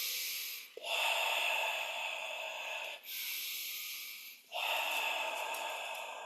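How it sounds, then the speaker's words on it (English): Conscious connected breathing: three long, hissing breaths drawn in and out without pause, each a steady airy rush ending in a brief catch before the next begins, close and clear. "it will probably be more like a conscious connected, which is like when you're just breathing in and out consistently"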